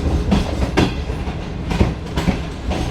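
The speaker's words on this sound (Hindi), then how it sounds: "हमारी ट्रेन जो है रोड़ी स्टेशन की तरफ बढ़ रही है" The Shalimar Express rolls through the Rohri hills toward Rohri station in Pakistan, heard from on board: loud, steady rumbling with rhythmic clickety-clack of wheels over rail joints.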